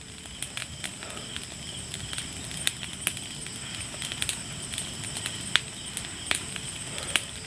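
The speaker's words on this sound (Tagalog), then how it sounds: "Lakas na ng apoy mga idol." A strong fire crackles and pops with sharp irregular snaps over a steady rushing roar. It is close and stays unbroken throughout, with no voices.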